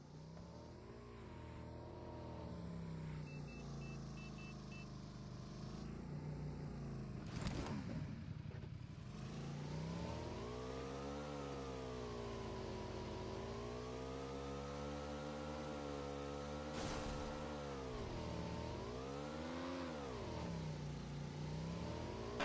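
Racing cars in Grid Autosport played on a Poco X3 Pro, engine note revving and shifting in continuous waves with rising and falling pitch, loud and steady throughout, with sharp bursts of noise near the start and middle.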